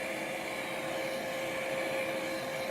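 A hair dryer runs steadily, drying wet paint on lettering, with a constant whine and airy rush holding at an even, moderate level throughout.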